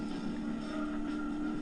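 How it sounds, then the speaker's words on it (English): A Mercury Cougar engine in the Gran Turismo 2 racing game, heard as a steady, sustained drone that holds an even pitch and loudness with no talking over it. "I just love the roaring engine of a Mercury Cougar"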